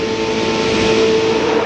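NASCAR race cars at the 1997 Diehard 500 roar as a pack in a loud, continuous engine drone, the steady howl filling every moment without pause.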